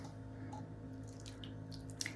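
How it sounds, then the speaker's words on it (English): A creamy mixture is poured over sweet potatoes, making soft liquid drips and small wet splashes. The sound is quiet and close against a low background hum, with a couple of slightly louder drips near the end. "Now I'm just going to take it and I'm going to pour it on top of our"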